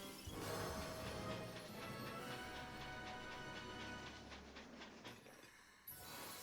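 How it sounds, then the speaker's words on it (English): Rumbling train in the platformer video game Balan Wonderworld, a dense steady rolling roar with rhythmic clacking and metallic overtones that fades out near the end, fairly faint overall. "Stop showing off your choo-choo train, please."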